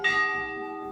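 A metal temple bell at the Chitai Golu Devta temple is struck once and rings out clearly, its bright tone slowly decaying into a sustained hum, close and loud with no voices.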